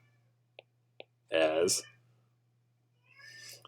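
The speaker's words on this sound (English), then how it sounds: "I'm not sure if you can hear it, but my cat is having a time in there." A pet cat in another room lets out a single muffled meow, preceded by two small clicks and followed by faint rustling over a steady low hum.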